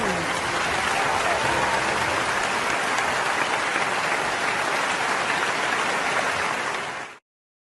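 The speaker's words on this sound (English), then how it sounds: "let's make a warm applause for Mounfiq Raiyan Abu." Warm audience applause greeting a speaker at a skills talk, a dense, steady wash of clapping that holds at even loudness for about seven seconds and then cuts off abruptly.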